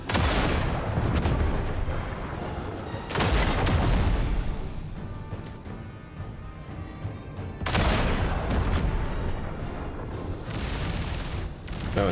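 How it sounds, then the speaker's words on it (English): Shotgun and gunfire in Duet Night Abyss combat come as loud, dense volleys of booming blasts, with three heavy surges separated by short dips and barely any pause between shots. "Oh, that's a shotgun."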